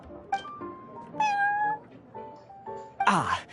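Prince, the cat at the Cat's Tail in Genshin Impact, meows several times in a row, tonal rising and falling calls of varying length, close and clear, ending in a louder, harsher yowl.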